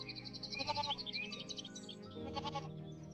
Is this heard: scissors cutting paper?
no